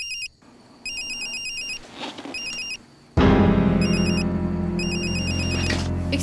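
A telephone rings in repeated bursts of bright electronic trills, each burst followed by a short gap, over a low rumble that grows louder and denser partway through.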